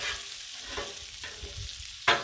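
Bacon sizzles on a Blackstone griddle with a steady crackling hiss, broken by a few scraping spatula strokes and a sharp louder flare of sizzle near the end.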